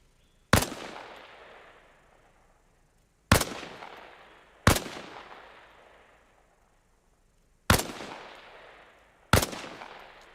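Five sharp single rifle shots fired from a kneeling position in the video game ARMA Reforger, loud and close, spaced irregularly a second or two apart, each cracking and then decaying in a long echoing tail, with no talking.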